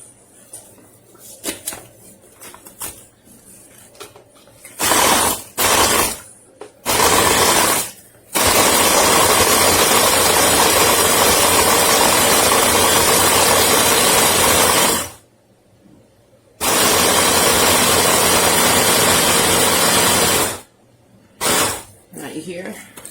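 A Megawise 3-in-1 hand blender chopping cashews, loud harsh whirring bursts that start and stop repeatedly, several long runs of grinding motor noise broken by brief silences, with a voice speaking during the gaps.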